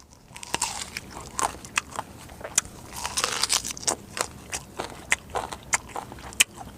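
Someone bites into and chews a large fruit up close, producing a run of crisp crunches and wet clicks at an uneven, steady pace.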